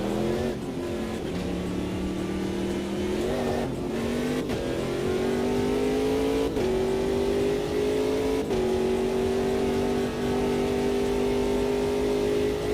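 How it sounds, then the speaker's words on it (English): The engine of a Ginetta P1 Gen 2 prototype race car in the AMS2 racing game drones continuously at high revs, climbing in pitch through gear after gear with brief dips at each upshift, loud and steady throughout. "So we're in the Ginetta P1 Gen 2, handles like a dream"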